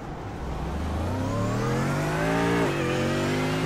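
A race car at the Circuit of the Americas accelerates hard out of pit lane, its engine note climbing through gears with a brief shift dip, loud and close, no voices.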